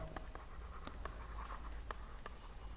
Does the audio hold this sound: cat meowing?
no